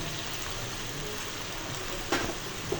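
Cubed chicken for a Chinese chicken curry hits a hot pan and sizzles with a steady, hissing fry, with a brief clatter near the end.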